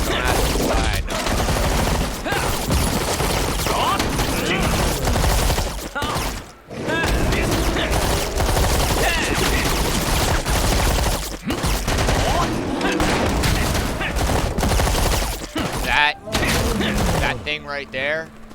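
Sustained gunfire in the online action game Lost Ark: rapid, loud volleys of shots and impacts run almost unbroken, with brief gaps and mechanical clanks, and a voice talks over the battle at times.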